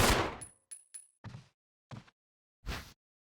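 Gunfire in Resident Evil HD Remaster: a sharp shot with a long tail, then several separate bursts of one or two bangs spaced irregularly, loud and close with silence between, no talking.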